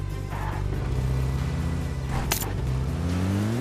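A car drives in a video game, its engine a steady loud hum with rising and falling pitch as it accelerates, and a short bright burst near the end.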